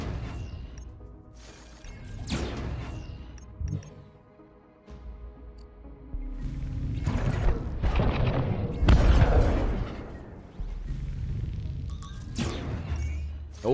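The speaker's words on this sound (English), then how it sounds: "Enemy missile intercepted." Repeated booming blasts and crashes from a missile interception in the space strategy game Breachway, several heavy impacts spread across the stretch with sharp bursts at intervals, loud and close, with brief voice fragments underneath.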